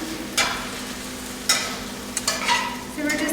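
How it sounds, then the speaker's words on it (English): A spoon stirs green beans with garlic and lemon in a hot pan, giving a scattering of scrapes and clacks over a steady, close sizzle, with no voices. "we're going to stir it all around"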